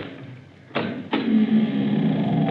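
A door opened as a radio drama sound effect: two sharp clunks of a latch or handle about a third of a second apart, followed by a sustained creaking, scraping swing that carries on to the end.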